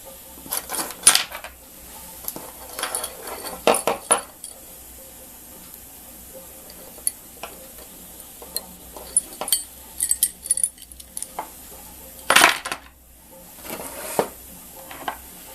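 Metal bandsaw parts washed by hand in a cleaning tank, with scattered clinks, rattles and light splashy knocks coming in irregular bursts, fairly close and quiet, no talking.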